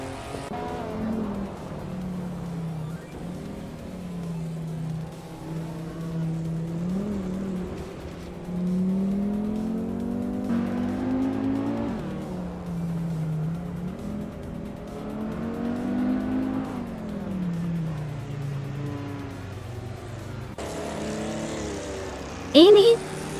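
Race cars in a racing video game, including a 1983 Porsche 911 930 Turbo, with engines droning and rising and falling through gear changes, a continuous loud pack under a commentator's voice.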